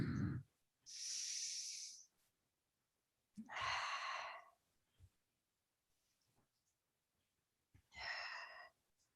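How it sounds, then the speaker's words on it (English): Slow, deep breaths during a guided breathing exercise: three long, soft airy exhalations or inhalations spaced several seconds apart, close and quiet with silence between them. "Keep breathing deeply."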